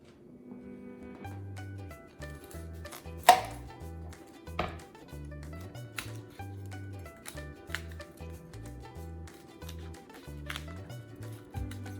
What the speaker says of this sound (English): So I'm just chopping up some bacon.